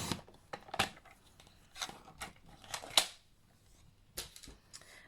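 Scissors snipping through paper for a banner, several soft, crisp cuts in uneven bursts with pauses between, close by and quiet, no talking.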